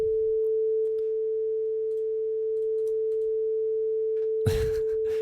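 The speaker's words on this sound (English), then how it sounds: "We should do a little hearing test on the channel." A steady pure hearing-test tone streamed live, one unbroken mid-pitched beep held for over five seconds over faint background hum, ending in a brief burst of noise.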